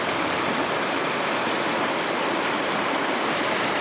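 A small creek flows in a constant, even rush of water, close and fairly loud, with no voices over it.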